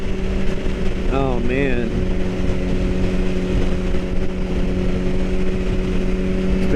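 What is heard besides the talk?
BMW HP4 motorcycle engine while riding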